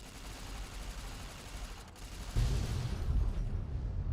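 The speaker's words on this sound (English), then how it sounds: "that wasn't as impressive an explosion as the other lads" Nuclear warhead detonating in a video game: a steady rumbling barrage gives way to a sudden louder, bass-heavy blast at about two and a half seconds that keeps roaring to the end, with no talking.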